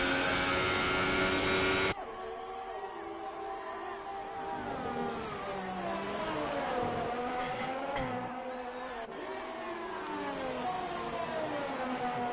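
A Ferrari race car on a flying lap in an Australian Grand Prix racing video game, engine whining and rising and falling through gear changes, after a brief louder burst at the start.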